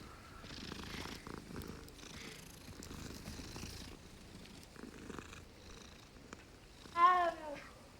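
Steady low purring from a cat being petted in the Hogwarts Legacy video game, continuous under faint game ambience, with a brief louder chirp-like sound near the end.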